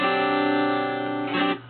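A single strummed chord on a 1966 Epiphone Casino guitar rings out with a slightly harsh, buzzing unmuted low E string, sustaining steadily before a brief scrape near the end.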